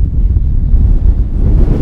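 Wind gusts over an open moor near Fernworthy Forest on damp, misty ground, a loud, low, rumbling buffeting against the microphone that stays steady throughout, with no speech.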